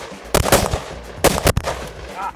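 A Bren 2 rifle fires at a shooting range in two loud, sharp groups of rapid shots with a short gap between them, close and echoing.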